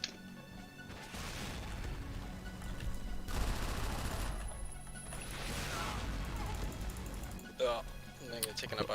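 Video game gunfire crackles in dense, rapid bursts and explosive crashes throughout, with voices talking over the shooting.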